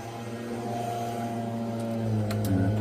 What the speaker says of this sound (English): our gardener working through the estate with his air blower